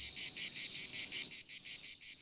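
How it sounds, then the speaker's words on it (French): High, pulsing insect trill of cicadas on a May evening, steady rhythmic chirring close by with a few thin bird chirps over it, no speech. "tout animé de crissements de cigales et de vols d'hirondelles"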